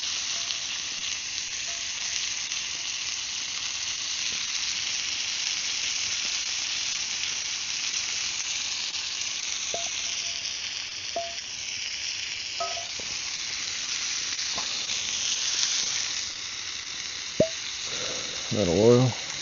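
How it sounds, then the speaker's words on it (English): Onions or shallots sizzle in a skillet on a Firebox wood stove outdoors on a cold winter day, a steady close hiss with a few faint clinks and a brief clatter near the end. "We'll grab this other skillet. And them onions back in there."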